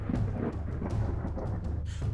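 Lightning strikes and thunder rolls in a steady, dense rumble, with sharp crackling bursts rising out of the roar, loud and continuous throughout.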